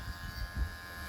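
An electric hair trimmer cuts hair during a low taper fade haircut, giving a faint, steady buzz with slight low pulses as it moves through the hair.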